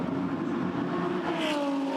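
A repaired Lexus GT race car on a new chassis drives through the pit lane, its engine a steady loud drone with the pitch gliding slightly, no voices over it.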